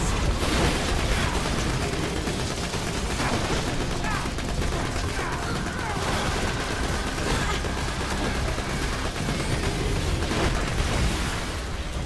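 Sustained, dense gunfire from the video game Borderlands, with rapid automatic shots forming an unbroken loud barrage for the whole stretch and no pauses.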